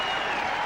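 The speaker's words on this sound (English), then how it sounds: "The crowd responding to the Boston Celtics" Brief, steady roar of an arena crowd applauding the Boston Celtics at a 1992 NBA game against the Chicago Bulls, dense clapping filling the whole moment.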